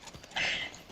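Horse hooves in a Red Dead video game, a brief cluster of clip-clop beats with a bright sustained burst in the middle, close and fairly loud.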